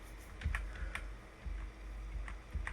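Arrow keys on a computer keyboard pressed in short, light clicks, mostly single taps with some close pairs at an irregular rhythm, fairly close and quiet against a low steady hum, with no voices.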